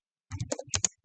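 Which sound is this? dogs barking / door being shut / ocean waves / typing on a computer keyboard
typing on a computer keyboard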